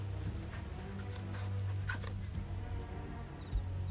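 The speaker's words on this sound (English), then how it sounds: "Oh, we gotta pet the dog." A dog in Final Fantasy XVI whimpers softly while being petted, a few short whiny yips and whines over a low steady game music drone, with no talking.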